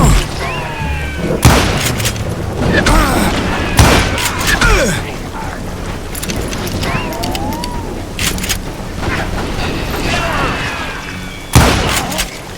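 Gunfire in the western video game Call of Juarez Gunslinger: loud, sharp shots and booming blasts crack out at irregular intervals among ricochets and clatter, while voices talk over the action.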